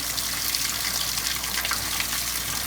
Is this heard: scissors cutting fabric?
no